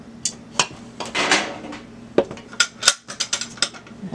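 A pudding pot lifted out of a large cooking pot just taken off the stove gives a run of sharp metallic clanks and knocks, some scraping, and a clustered burst of clatter toward the end, close and fairly loud with no talk.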